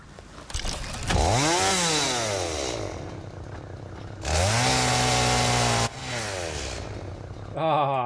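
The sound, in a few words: chainsaw in the video game Satisfactory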